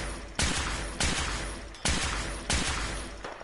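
Gunfire in Fallout 4, four heavy booming shots spaced roughly three-quarters of a second apart, each trailing into a decaying roar, loud and close with no voices.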